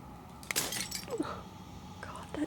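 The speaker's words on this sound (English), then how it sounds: "As the final fragment of glass shatters" Glass shattering in the video game Slay the Princess, a bright crash with scattered tinkling fragments that falls away quickly over a low hum and sparse background sound.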